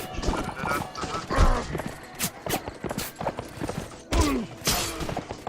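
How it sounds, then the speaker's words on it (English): Hoofbeats of a goat ridden into battle in the Warband video game, an irregular clatter of clip-clopping steps with a few heavier thuds, fairly close and loud. "I'm riding a goat."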